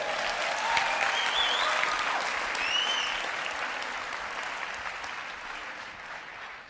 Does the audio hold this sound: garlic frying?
no